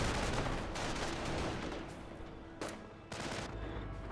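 Dense battle gunfire from Company of Heroes, with rifle squads and Grenadiers exchanging fire: a continuous loud crackle of rifle and machine-gun shots with a few sharper bursts near the end, and no talk.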